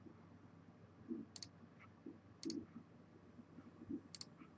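Computer mouse clicks sounding in a quiet room during software work, three crisp, faint double clicks spaced about a second apart over a soft background hum.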